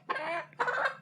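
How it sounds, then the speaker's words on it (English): A baby chicken clucks twice in quick succession, close and fairly loud, with no talking over it. "I just got a baby chicken."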